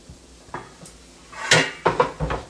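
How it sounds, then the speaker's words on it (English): A metal lid taken from a big kettle clanks and rattles as it is set onto a pan of cornbread dressing on a low stove, several sharp clatters close up, the loudest in the second half. "Let me get my lid."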